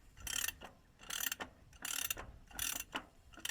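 A ratchet wrench tightens the wheel hub on a vehicle during a brake and bearing job: four rhythmic bursts of rapid metallic clicking, close and clear, separated by short pauses, with no voices.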